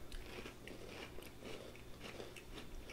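Close, quiet crunching bites into a crisp Girl Scout cookie, a series of brittle cracks and chewing crunches spaced irregularly over a few seconds.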